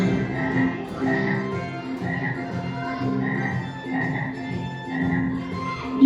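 Frogs croak in a steady rhythmic chorus, repeated pulsing calls about once a second, loud and close with no other sounds.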